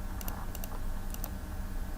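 Computer keyboard keys tapped in a quiet room, a few crisp clicks in short clusters, close and fairly faint, with no voices.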